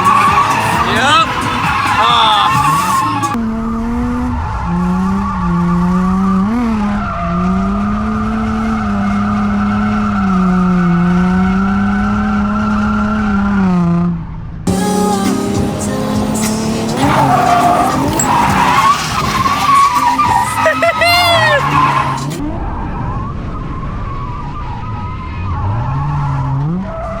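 A Nissan G35 drifts hard around a race track, its engine revving and dropping in long sustained pitches while the tires squeal loudly through each slide, interrupted by brief pauses; people talk over the car noise.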